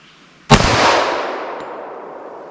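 An HK Mark 23 pistol firing flat nose bullets: one sharp, loud shot with a long, ringing reverberant tail that slowly fades, with no talk.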